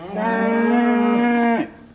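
A cow moos once, loud and close, holding a steady drawn-out call for about a second and a half before it cuts off.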